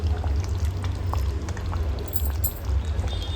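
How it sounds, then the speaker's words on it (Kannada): Amul fresh cream is poured into a simmering chicken masala gravy, giving a soft steady pour and bubbling over a constant low kitchen hum for a few seconds, with no talking. "ಇವಾಗ ಅಮೂಲ್ ಫ್ರೆಶ್ ಕ್ರೀಮನ್ನು ಹಾಕೊಳ್ತಾ ಇದ್ದೀನಿ"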